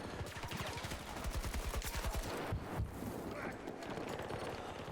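Sustained full-auto rifle fire in Battlefield 2042, a rapid, steady stream of loud close shots that runs for several seconds with only a brief break partway through.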